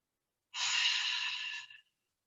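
A single deep breath during a yoga session, a soft, airy exhale lasting about a second, close and quiet against silence.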